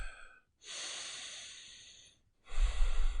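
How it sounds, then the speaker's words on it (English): A person draws a long, deep breath in, then after a short pause lets out a heavier, louder exhale, close and alone with no talk. "Take a moment and breathe."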